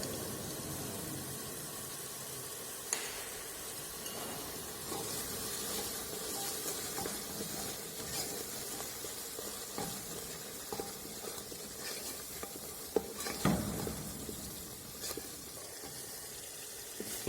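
Spices are stirred in hot oil for mutton rogan josh with Kashmiri degi mirch and salt, giving a quiet, steady sizzle and hiss with occasional scraping knocks.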